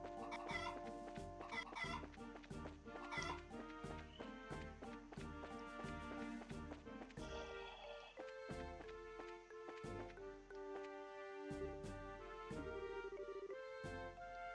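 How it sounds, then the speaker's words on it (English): A chicken clucks repeatedly in a Trails video game, its short, steady clucks running throughout over continuous game music with a sustained, even background. "Chicken."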